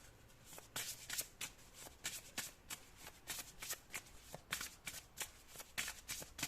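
A deck of fairy oracle cards being shuffled by hand, a steady run of crisp riffling flutters close up, repeating in quick bursts with no talk.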